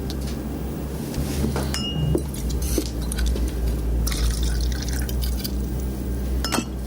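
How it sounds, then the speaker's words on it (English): A drink poured into a glass in a film scene, with clinks of glass and dripping liquid heard over a low steady hum, several sharp chinks standing out amid the pouring. "Pour me a drink, Marty."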